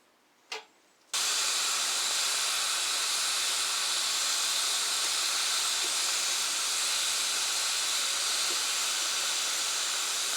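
A torch hisses steadily and loudly while heating a motorcycle cylinder head before spark plug threads are tapped, a continuous roaring flame that starts abruptly after a short click and runs unbroken to the end.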